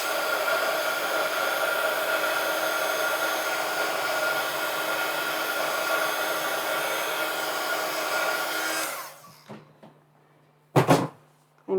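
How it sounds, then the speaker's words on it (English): A heat gun blows in a loud, steady roar for about nine seconds while drying wax on a steampunk journal page, then cuts off, followed by a few soft knocks and clatters. "Sorry about the heat gun noise."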